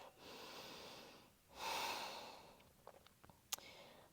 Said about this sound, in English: observing your breath.